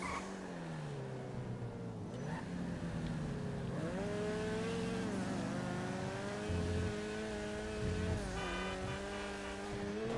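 Car engine roars in a fast driving game, the note climbing and dropping as gears change, with brief tyre squeals, loud and continuous throughout with no talk.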